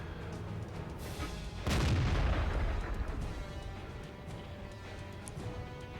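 A tank cannon fires once in a World of Tanks light-tank battle, a loud booming blast rising over steady engine rumble and then trailing off into rumbling background noise, with no talking.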